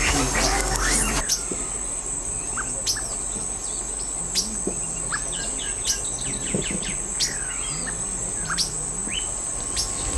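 Sabiá thrush singing in the morning, a series of clear whistled phrases repeated at intervals over a steady insect buzz and chirping background, with no talking.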